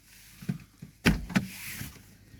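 The door of a Mercedes CLK W209 is opened with its electric window lowered: a few soft handling taps, then a sharp latch clunk and a second thud as the door releases, close by and quiet.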